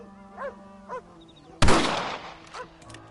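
A single loud rifle shot cracks in the Red Dead video game, close and sharp with a decaying tail, surrounded by faint ambient bird honks and chirps before and after.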